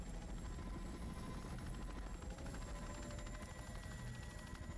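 An aircraft flies in the sci-fi online game WildStar, a steady faint droning rotor-like hum with a fine rapid flutter, continuous and unbroken without voices.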